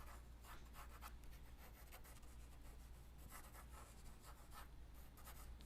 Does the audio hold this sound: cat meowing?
no